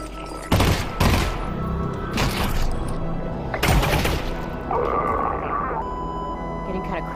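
Several loud bursts of gunfire from a VR shooting game, broadband cracks repeating in clusters, followed by a steadier tonal mechanical hum and continuous background game noise.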